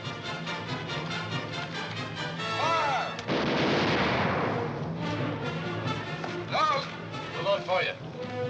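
Soldiers fire controlled musket volleys, a loud, sustained crackling blast of gunfire that follows shouted commands, with voices and clattering movement before and after the volley.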